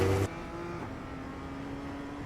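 A BMW M2 accelerates on the Daytona race track: a brief loud burst opens, then a steady, close engine drone holds a constant pitch until it cuts off.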